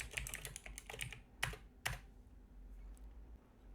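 Fingers typing code on a computer keyboard, a quick close run of key clicks with two sharper strokes near the end before the keys fall quiet.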